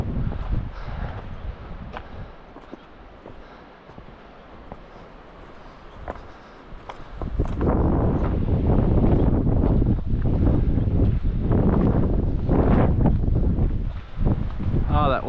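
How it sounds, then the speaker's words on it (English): Wind rushes across the microphone on a mountain trail at Grandeur Peak's Church Fork, softer and gusty at first, then swelling into a loud, steady roar. "wind feels so great"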